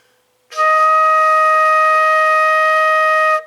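One long E-flat on a flute begins after a short silence and is sustained evenly, bright and close, to the end with no voices over it.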